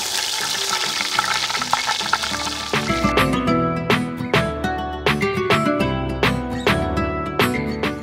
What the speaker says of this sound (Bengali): গরম মশলার সাথে বাটা পেঁয়াজটা আগে ভাজা হতে থাক।